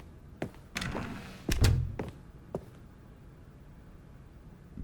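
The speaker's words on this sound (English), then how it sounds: "Secret door over there." A secret door opening in the video game The Stanley Parable: a few separate mechanical thunks and knocks, with a heavier, louder thud in the middle and lighter clunks after it, close and dry against a quiet background.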